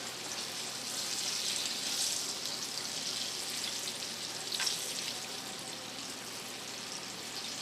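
Squirrel pieces fry in vegetable oil with onion, a steady close hiss and crackle that stays even throughout, with a brief louder pop or two of spatter.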